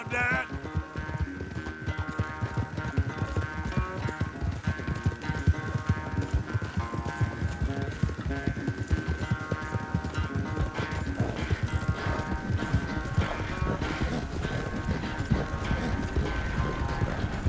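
Galloping horse hooves in a race in Red Dead Redemption 2, a fast, relentless clip-clop pounding with mechanical rattling, loud and continuous throughout.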